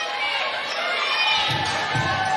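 A college volleyball crowd at a Clemson versus Duke match cheers loudly and continuously, a dense roar of many voices with shouts and whistles, a few low thumps near the end.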